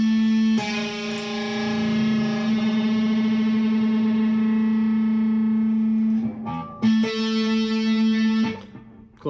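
Guitar's second string fretted at the 10th fret to match an A, a single sustained note played through distortion, chorus and echo effects, ringing steadily before being re-struck near the end.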